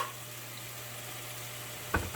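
Marsala wine sizzles softly and steadily in a pan as the alcohol cooks off, with a brief scrape or clatter near the end.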